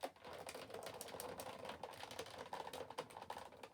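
Die cutting a folded card made with an embossing folder, heard as a close, quiet run of rapid mechanical clicks and ticks in an even ticking rhythm, with no talk.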